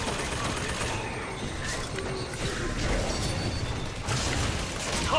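Sustained gunfire and crashing impacts from an enemy shooting at the player in the video game BioShock Infinite, dense and continuous over several seconds with a busy battle background.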